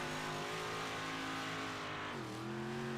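A Big Block Modified race car roars around a track at Lanier, its engine droning loud and steady before the pitch drops as it backs off and then picks up again, with no voices.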